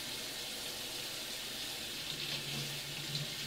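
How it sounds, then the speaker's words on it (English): Water runs steadily from a kitchen tap over ears of corn being washed in a sink, a constant close hiss with a faint low hum throughout. "can you see me washing corn?"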